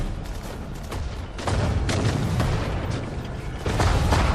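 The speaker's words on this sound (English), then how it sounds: "Tank comes through, hits the mine" In the video game Sudden Strike 4, set in the Battle of the Falaise pocket, a tank rolls over a mine and explodes, heard as dense rumbling booms layered with battlefield gunfire that swell and stay loud throughout.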